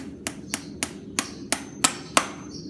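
A farrier drives a horseshoe nail into a horse's hoof with a hammer, seven sharp metallic taps at a steady, roughly even pace, close and distinct against a quiet background.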